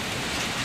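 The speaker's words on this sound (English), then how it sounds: "During the pause, it began to rain." Light rain falling on a rainforest canopy, a brief, steady, dense hiss of drops with no pauses, fairly loud and alone.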